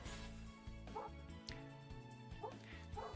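A dog barks with yipping, whimpering calls that come in short repeated bursts over a steady musical background, near and moderately loud.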